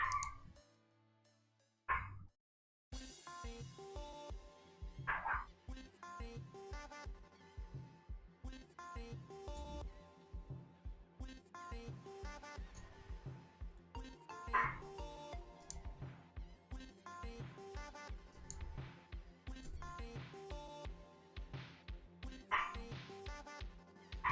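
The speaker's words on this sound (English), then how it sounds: "That's actually my mom's dog. Guinevere's here." Guinevere, a pet dog, barks in repeated sharp yips and bow-wows, sometimes in quick bursts, fairly close indoors, with short pauses and a faint whimper between the barks.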